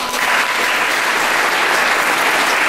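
Audience applause fills the whole stretch, a steady dense wash of clapping from a large crowd at a student welcome event in Slovakia, loud and continuous without a break.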